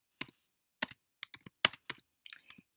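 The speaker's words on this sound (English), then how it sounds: "let me type this a little better" Keys on a computer keyboard are tapped in short uneven bursts, about a dozen crisp clicks with brief pauses between groups, close and clear in an otherwise quiet room.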